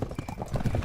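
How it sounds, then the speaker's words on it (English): Galloping hooves of many horses in a drama sound effect, a dense clip-clop rhythm drawing nearer and growing louder over a low rumble. "Faintly, they heard the thundering sound of many horses approaching."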